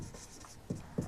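A formula is written on a classroom board during a physics lesson on the mirror formula for a concave mirror, quiet scratchy strokes with two sharper taps near the end and no talking.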